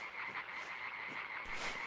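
Frogs croak in the video game Limbo, a dense chorus of repeated rasping calls overlapping continuously, fairly close and steady with no talking.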